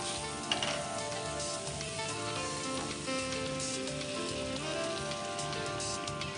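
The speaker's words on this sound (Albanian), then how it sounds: "Atëherë kemi shtuar orizin, pasi kemi skuqur qepën pak. E shuajmë me verë të bardhë." Rice and onions sizzle loudly in a pan as white wine is poured in to deglaze, a steady dense hiss with crackling throughout and no voices.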